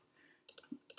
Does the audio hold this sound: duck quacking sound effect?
no